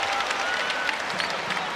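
A college basketball crowd at an NCAA men's game between Indianapolis and Indiana applauds their freshman point guard's effort, steady dense clapping from many hands, fairly close and unbroken throughout.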